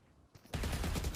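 Rapid automatic gunfire from a spray in a Valorant pro match on the Sunset map, a short burst that starts abruptly after a quieter lead-in and stays loud and dense to the end.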